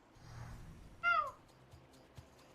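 A pet cat named Pruni gives one clear, rising meow near the middle, fairly close and loud above a quiet background, with faint low murmuring before it.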